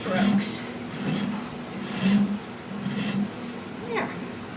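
Long strokes of a hoof rasp filing the wall of a horse's hoof, its harder side in use, repeating in a steady rasping rhythm of about four passes, close and fairly loud.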